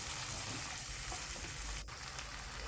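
Chopped tomato and spice paste fry in oil for a Bengali katla fish curry, giving a steady, dense sizzle with no talk. A brief clink or scrape sounds near the two-second mark.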